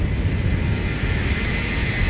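Zibo Boeing 737NG jet engines in the X-Plane flight simulator produce a steady, loud, dense roar with a sustained high whine, heard close and unbroken with no talking.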